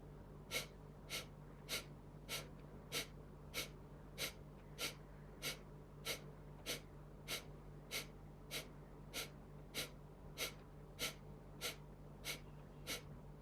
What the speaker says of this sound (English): Now do 21 Kapal Bhatis after one abdominal breath